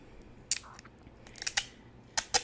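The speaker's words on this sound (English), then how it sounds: "you can actually peel this label back" A paper label is peeled back on a small 5 ml essential oil bottle, giving a few sharp, close crackling snaps and ticks spread across a quiet moment.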